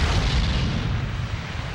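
Cannon fire from Vichy French forces against British and American troops near Oran in 1942 WWII archive footage: a dense, loud, continuous rumbling roar of artillery with deep low booms throughout, no voices.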